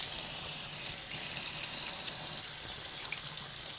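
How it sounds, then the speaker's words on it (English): A kitchen tap runs steadily while hands are washed, a bright continuous hiss of falling water into a sink, close and unbroken, with no talking. "Now, I'm gonna go wash my hands and get rid of the dirty plate."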